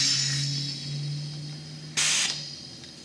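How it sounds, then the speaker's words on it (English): An air compressor hisses as air blows into a boilie bait roller for carp bait, with a steady spray that eases off, then a short sharp second blast near the end, alone with a faint hum underneath. "Compressor hooked up."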